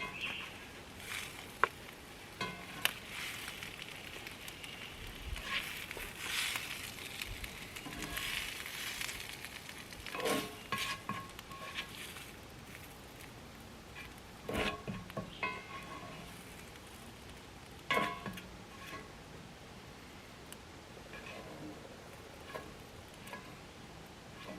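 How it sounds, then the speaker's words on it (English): Eggs fry in a pan over a camp stove in a forest, a soft steady sizzle with occasional light clicks and scrapes, faint and close, no talk. "throw the eggs in the pan"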